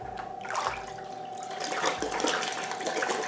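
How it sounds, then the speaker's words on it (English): Beer from a homebrew kit pours into the last two bottles, a steady close-up stream of liquid with gurgling and splashing that swells and eases as each bottle fills, with no talking. "Going to bottle last 2 bottles here."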